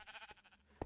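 A Minecraft sheep gives a short, quivering bleat, faint and close, with a sharp click at the end.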